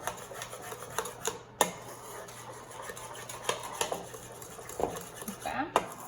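A utensil mixes cake batter with vanilla in a bowl, making repeated scraping, clinking strokes against the bowl with irregular sharper knocks, close and steady with no voice.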